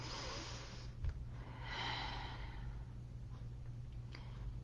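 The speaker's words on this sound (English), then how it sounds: "take a nice deep breath" A single slow, deep breath drawn in close to the microphone, a soft airy rush lasting under a second over a steady low hum.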